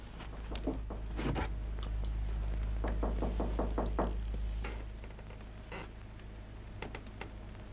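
Someone raps on a door in a 1940s mystery drama, a series of several quick knocks in clusters over a low rumbling background, fairly close and clear.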